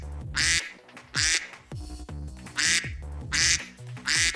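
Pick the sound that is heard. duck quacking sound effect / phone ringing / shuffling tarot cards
duck quacking sound effect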